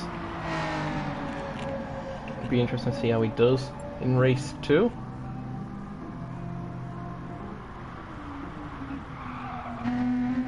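A BMW M4 touring car in a racing video game revs through a practice start at Brands Hatch, with bursts of engine and brief tyre squeal rising mid-clip under steady commentary.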